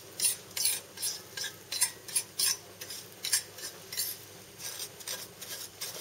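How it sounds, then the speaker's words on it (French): Sugar soaked in melted butter crushed and worked in a pan into caramel for traditional flambéed crêpes, giving a steady series of close scraping, stirring strokes with soft metallic clinks at a quick, uneven rhythm. "j'écrase ce sucre et je le travaille jusqu'à l'obtention d'un caramel"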